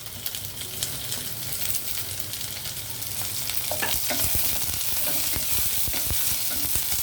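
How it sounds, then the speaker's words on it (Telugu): Onions, curry leaves, coriander and green chillies fry in oil for a rice-starch rasam, a continuous close sizzle that slowly grows louder, with occasional clicks and scrapes of stirring. "ఇలా ఉల్లిపాయలు వేగేటప్పుడే మనము ఈ కరివేపాకు, ఇంకా కొత్తిమీర, పచ్చిమిర్చి ఇవి కూడా వేసేసి వేగనిద్దాం"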